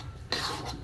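Utensil scraping and stirring in a metal wok (kawali) holding chopped food while cooking for a November 1 offering, a short burst of close metallic scraping after a quiet start.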